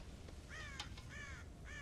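Crows caw in the Red Dead Redemption video game, three harsh, descending calls in quick succession over a low ambient background, fairly close and clear with no talking.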